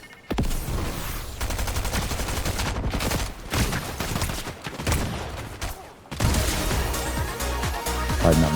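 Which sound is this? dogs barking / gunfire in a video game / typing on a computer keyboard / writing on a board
gunfire in a video game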